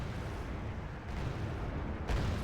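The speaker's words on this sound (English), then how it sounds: "I'm just backing up and letting the artillery get some salvos off" Artillery salvos in the strategy video game R.U.S.E., a steady, dense rumble of distant booming fire with a louder burst near the end.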